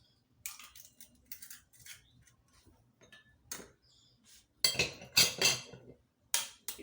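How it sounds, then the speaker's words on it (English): Eggs are cracked for cake batter, three at a time: sharp clicks and taps of shells on a bowl rim come in scattered bursts, with a cluster of louder cracks near the end, close by and with no talking. "we are going to break our eggs"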